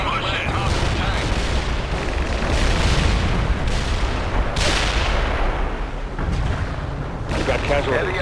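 Heavy artillery barrages in the World in Conflict war game, a dense continuous roar of booms and blasts with several sharp impacts, loud throughout and layered with battlefield noise.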